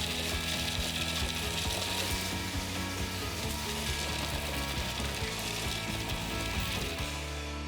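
Shelled pistachios are crushed together with sugar and salt, making a steady, close gritty crunching and grinding that goes on without a break, with no voices.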